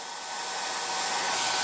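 A blow dryer runs steadily as hair is styled into talon grips, a continuous broadband whoosh that holds close and loud and swells slightly over the span, with no voices.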